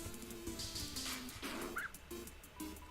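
Small dog in a League of Legends game yipping and whimpering, a string of short high yelps and whines over a busy, steady game soundscape.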